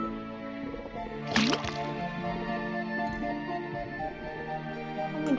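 A faucet in the game Detective Grimoire releases liquid, heard as one clear, bright drip with a short gurgle over a faint, steady background hum.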